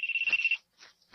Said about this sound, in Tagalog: Nagriring ang phone ko?